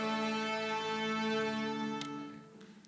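An orchestra's strings sustain the open A string together, one steady, rich pitch, loud and even, fading slightly at the end with a faint click.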